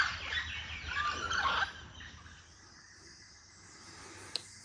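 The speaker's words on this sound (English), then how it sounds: "They're the mealy parrots, but there are hundreds of them around here." A flock of mealy parrots calls in the jungle in the morning, giving a burst of harsh, raucous squawks at moderate distance that fades after a second or two, followed by quieter ambience.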